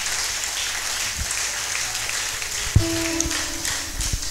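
Church congregation claps and applauds during a pastor's service, a steady spread of handclaps throughout with a louder thump partway through.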